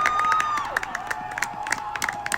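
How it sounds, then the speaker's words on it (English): A crowd at a varsity high school soccer game cheers with scattered shouts and whistles, including a long sliding whistle, moderately loud and lively. "Look at everyone cheering here."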